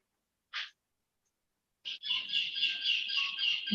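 A parrot gives a short sharp chirp, then after a pause lets out a sustained, harsh, tonal squawk lasting nearly two seconds, fairly close and clear with no talk over it.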